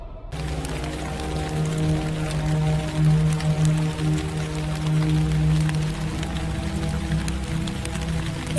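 Steady rainfall, a dense continuous hiss of drops over a low tonal music bed, constant and fairly loud throughout with no speech.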